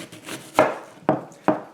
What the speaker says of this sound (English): just cutting an onion